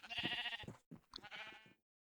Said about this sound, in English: I'm going to keep shearing these sheep until I can get enough wool.